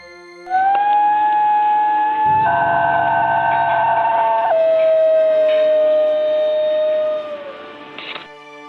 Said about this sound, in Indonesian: anjing ini memiliki lolongan yang unik yang diasosiasikan sebagai nyanyian